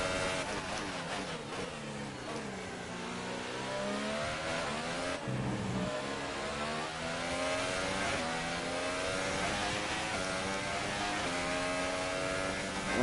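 Formula 1 car engines in the F1 2018 game scream continuously at high revs, pitch sweeping up and down through gear changes over about thirteen seconds, loud and sustained.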